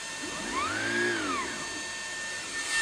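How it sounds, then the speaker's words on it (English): A vacuum cleaner with its revolving brush head switched on gives a steady motor whine with a rising and falling tonal sweep, close and fairly quiet, with no talk. "When you're using the revolving brush head, you have to make sure you're moving the vacuum cleaner around"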